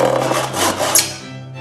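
A hand saw draws steadily back and forth through a piece of wood along a marked line during a carpentry exercise. The rasping strokes are close and loud, with no talk over them.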